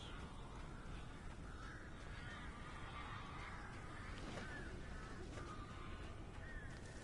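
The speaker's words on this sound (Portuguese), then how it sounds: "Ok, tem alguns pássaros." Crows cawing in the video game Alan Wake, several harsh calls scattered over a steady background of ambient noise, moderately distant.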